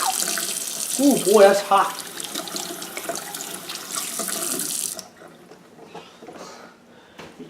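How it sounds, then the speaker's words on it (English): Water runs steadily from a tap over hands being washed, a close, continuous splashing rush for about five seconds that stops abruptly, leaving a quiet room. A person speaks briefly over the flow. "Now I'm going to wash my hands off real good."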